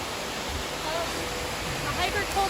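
A waterfall off a hiking trail in North Cascades National Park pours as a steady broadband rush, continuous and fairly close, with faint voices nearby.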